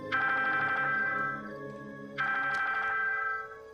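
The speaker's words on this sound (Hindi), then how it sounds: "रॉयस का फोन।" A phone rings twice, each electronic ring lasting over a second with a short pause between, clear and close with no talking.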